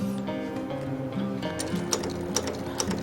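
A Taf 380 walking-foot sewing machine with a faulty outer presser foot runs steadily up close, a humming motor under rapid rhythmic mechanical clicks and ticks, with no voices.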